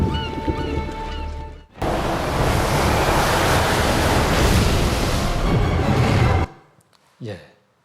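Parted sea water rushes as a loud, steady roar of waves and wind in a film scene, filling several seconds before cutting off abruptly, with a brief swell afterward.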